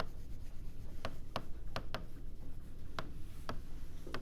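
Pen or marker strokes drawing a small star while writing during a math lesson: several short, sharp scratching ticks in an irregular rhythm over a steady low background hum, close and fairly quiet, with no talking.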